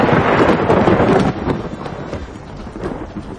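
Heavy thunderstorm rolls in with deep, loud rumbling thunder over a dense hiss of falling rain, the roar strongest at first and then easing into steady downpour.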